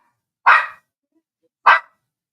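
Two loud, sharp dog barks close by, spaced about a second apart, with silence between them and no talk.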